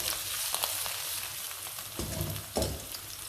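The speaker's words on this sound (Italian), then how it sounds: "Mettiamo in padella olio, la padella è già calda" Onion sizzles and fries in oil in an already hot pan, a steady crackling hiss up close with a few stirring bumps toward the end.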